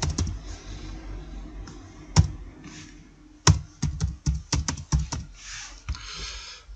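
Close, crisp typing on a computer keyboard: scattered keystrokes, then a quicker run of firm clacks with a heavier key press standing out, no voices.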